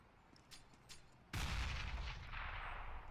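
Gunfire in a Counter-Strike match at a Katowice tournament: a couple of faint distant shots, then a sudden loud close blast with a rumbling, sustained crackle of shots trailing after.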